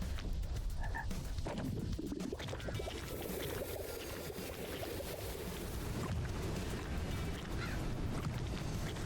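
A frog croaks in the action video game Death Must Die, its calls mixed into a loud, dense layer of combat effects and ambient game sound that runs without pause.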